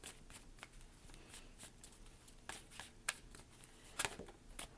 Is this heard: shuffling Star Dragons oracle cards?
yes